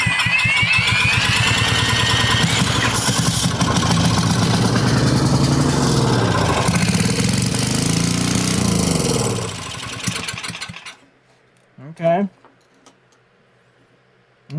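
An old Powermate generator engine, off choke, runs loud and steady with a fluctuating buzzing drone, then winds down and stops, followed by a brief sputter and near silence.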